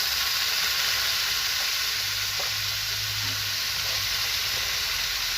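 Kangkong stems hiss and sizzle in a hot pan as they are stir-fried, a steady, loud, close frying noise with faint scraping from stirring and no voices.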